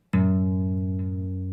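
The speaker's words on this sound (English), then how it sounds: "I'm going to hit this F sharp note, 2nd fret on the 6th string" A single low F sharp struck on the 2nd fret of the 6th string of an electric guitar with delay, a sharp attack then a sustained, humming ringing tone, close and alone.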